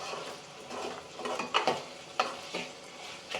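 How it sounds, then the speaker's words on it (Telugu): A spoon stirs salt into ridge gourd and dal curry in a pan over a steady background of sizzling, with several sharp scraping clicks against the pan. "మంచిగా ఉప్పు వేసాక కూడా మనం ఒకసారి మిక్స్ చేసుకోవాలన్నమాట."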